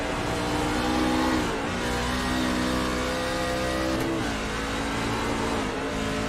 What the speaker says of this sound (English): Riding along with Robbie Payne here, watching him go up through the gears